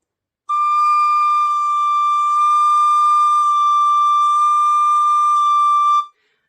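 A tin whistle holds a single high D note, a pure, steady, piercing tone sustained for several seconds with a slight dip in pitch partway through, loud and alone.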